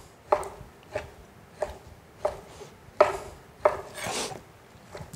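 A sharp knife slices meat across the grain, thumping the cutting board in six or seven close, regular strokes, the last followed by a short scraping sound.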